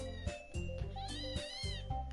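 Several cats yowl and caterwaul at each other in rising, wavering cries, with short thuds between the calls, fairly quiet and with no talking.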